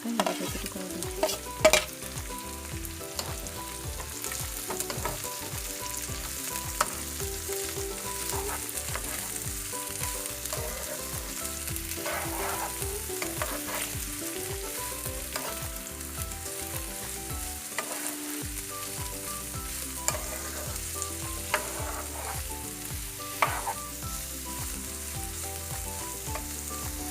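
Capsicum, French beans, cabbage and chili pieces sizzle in a hot pan for chowmein, a continuous steady frying hiss broken by frequent scraping stirs of the utensil against the pan, close and without talk.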